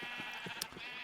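A sheep bleating in a pen in the video game Minecraft, a few quick wavering bleats that sound close and clear.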